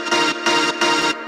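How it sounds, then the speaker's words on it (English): A chopped chord from an instrumental sample plays in Ableton Simpler, stabbing out in three sustained, loud, evenly spaced hits with brief silences between, each rich in harmonics. There is no speech. "chord chopped by itself sounds like this"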